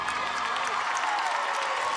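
A crowd at an NCAA women's gymnastics meet between Minnesota and Nebraska applauds and cheers after a floor routine, dense steady clapping filling the arena, with a commentator's voice faintly over it.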